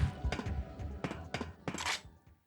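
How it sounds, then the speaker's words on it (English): Muffled thuds and bursts from a grenade pistol firing air-burst rounds in Parasite Eve 2, several dull impacts over a low rumble of game sound. "we're gonna equip the grenade pistol with the air burst, and then pop around the corner"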